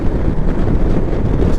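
Strong, steady wind buffeting the microphone on a moving Honda Rebel 500 motorcycle fitted with a Puig clip-on visor, a loud continuous low rumble with no voices.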